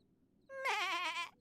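A single sheep-like bleat from a creature in Xenoblade Chronicles 2, a loud wavering nasal cry lasting close to a second that rises out of a quiet background, then stops.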